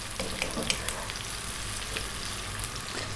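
Fresh whole chillies sizzle and crackle steadily as they fry with onion in a pan over high heat, with occasional sharp pops and light stirring scrapes throughout.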